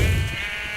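A brief, buzzy sheep bleat from the video game Sheep Quest, loud and close, with a steady nasal tone that fades within a second.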